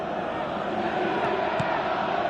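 Steady, dense roar of a football stadium crowd in a FIFA match on PS4, continuous and broad, swelling slightly with a brief louder surge midway, no distinct voices standing out.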